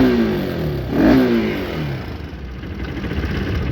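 A Bajaj Pulsar RS200 motorcycle fitted with custom mirrors revs its engine, a loud, close, rising and falling roar peaking near the start, then settling into a steady rumbling idle.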